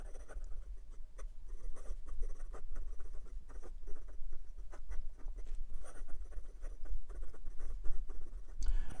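A Hongdian N23 fountain pen scratches quickly across paper, close and quiet, a rapid patter of short nib strokes and scrapes over a low background hum.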